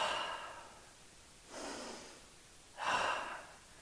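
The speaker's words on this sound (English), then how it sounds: "We're going to take 2 breaths here." Slow breathing during a yoga class, three soft, airy breaths with pauses between them, close and faint with no voices.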